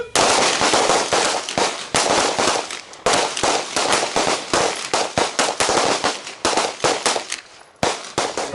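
Rapid handgun gunshots fired back to back during a shooting class, loud and sharp, dozens of cracks in quick, slightly uneven bursts with brief pauses, no talking between them.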